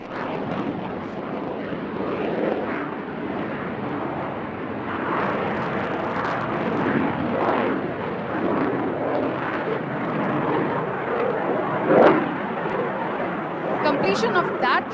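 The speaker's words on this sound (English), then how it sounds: "the Tejas Mark 1 Alpha has lowered his undercarriage, is coming in for short circuit to land" A Tejas Mark 1 Alpha fighter jet roars past at the Aero India air show in Bengaluru with its undercarriage lowered for a short landing circuit. The loud, sustained jet rumble swells and fades under an announcer's voice and crowd chatter.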